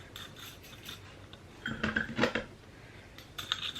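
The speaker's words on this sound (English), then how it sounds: "I'm just gonna take this little spoon and kind of spread it around just to try to cover all of the" A small spoon scrapes and spreads material over bare soil in a garden planter, giving soft, close scratchy rubs that build into a few louder gritty strokes in the middle.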